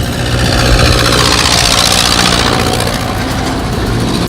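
Heavy trucks idle at a roadside weigh-station checkpoint, a steady loud low diesel rumble with vibration that holds unbroken throughout and dips slightly at the very end.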